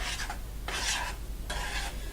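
Cinnamon being stirred into homemade rice pudding, a soft scraping, rubbing rasp in three short bursts with pauses between, close by and steady.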